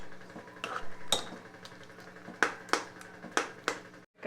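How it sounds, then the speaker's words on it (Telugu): Cooked sweet pongal, chakkera pongal, is mashed in a metal pot, a ladle tapping and clinking against the sides in irregular sharp knocks, close and alone. "సో ఒకసారి దాన్ని ఇలాగా మెత్తగా స్మాష్ చేసుకుని"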